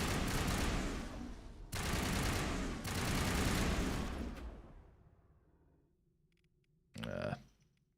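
Sustained automatic fire with tungsten rounds roars in Mass Effect, loud close bursts separated by brief gaps, trailing into a decaying rumble before a short final burst.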